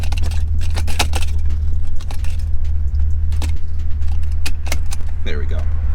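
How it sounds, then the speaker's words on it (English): Seatbelt being buckled in a 1987 BMW 325i E30 convertible: a series of close metallic clinks and jangles over the steady low rumble of the idling car. "Come on, seatbelt. Get in there."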